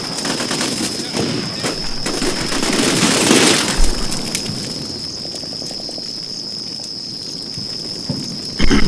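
Sustained gunfire from the military video game Combat Mission Shock Force 2, a US Army assault on a Syrian police station, with dense overlapping bursts, a steady high whine and a few heavier blasts, loud throughout.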